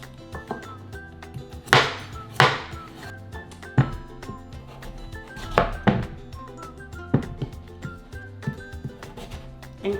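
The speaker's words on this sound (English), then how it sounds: "So we start out by trimming our butternut squash, and I break it in two." A knife cuts through a butternut squash on a board, with a run of sharp, close chopping thuds at an uneven pace, some hits heavier than others, and no talking.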